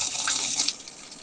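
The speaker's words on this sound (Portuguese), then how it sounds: "a gente coloca a água" Water pouring into a container, set up for household storage with glass jars spaced apart; a steady, close splashing rush that fades after the first second, with no talk.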